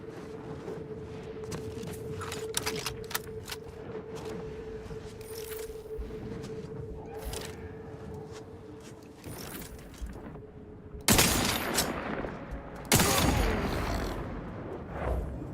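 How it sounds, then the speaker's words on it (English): Gunfire from unsuppressed guns in a video game: several sharp, loud bursts, with the heaviest cracks near the end, over a steady low mechanical hum. "Really do wish these guns had suppressors."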